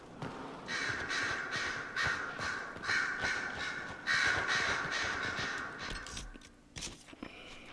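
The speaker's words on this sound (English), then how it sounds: "Yay, crows." Harsh cawing from a group of crows in Dragon Age Inquisition comes in repeated overlapping bursts, loud and close, before fading near the end with a few faint clicks.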